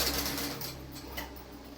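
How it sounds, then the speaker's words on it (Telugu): A sewing machine runs steadily at a quiet, even level, giving a continuous mechanical whir with faint rhythmic ticking throughout; the work is Pattu silk saree design. "మిషన్ సౌండ్ ఎక్కువ వస్తుంది"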